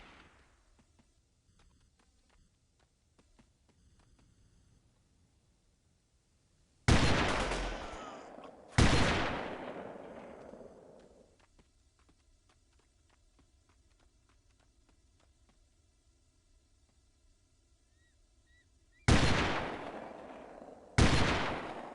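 Gunfire in the video game Delta Force 2: four loud, sharp shots with long decaying echoes, coming in two pairs several seconds apart against a quiet background.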